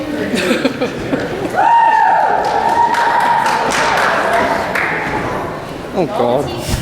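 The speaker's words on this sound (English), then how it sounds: "Mrs. Griffin is going to help lead us in a little cheer." A school assembly crowd in Sunburst joins a cheer led by a teacher, a loud sustained rising shout of many voices swelling from near silence and holding for several seconds, with talk and clapping around it.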